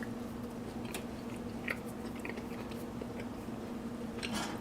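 Faint, close biting and chewing of a vegan, gluten-free breakfast patty: soft crunching and squishy mouth sounds under a steady background hiss, with no talking.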